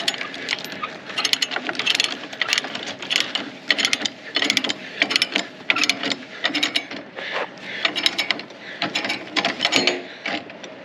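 A ratchet chain binder cranks a chain tight over truck ramps, its sharp metallic clicks coming in rapid bursts with brief pauses between strokes, loud and close.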